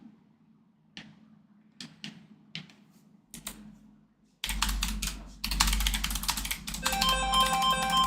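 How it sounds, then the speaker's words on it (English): A phone begins ringing during a Diablo 4 session, its electronic tone emerging in the last seconds amid loud, dense keyboard clatter and clicks that follow several sparse, isolated key taps. "Oh, my phone's ringing."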